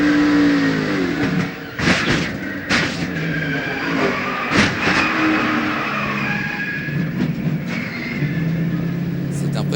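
Roaring NASCAR Busch Series race car engines at Charlotte Motor Speedway during the Carquest Auto Parts 300, loud and continuous with sharp passing surges and tire noise, under excited commentary.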